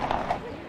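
Cavalry horses clip-clop: two or three quick hoof beats at moderate distance in a very short burst, with a voice talking over them.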